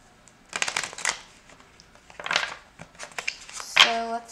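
Tarot cards being shuffled close up in several quick riffling bursts separated by brief pauses, crisp papery flutters with a sharp snap at the end.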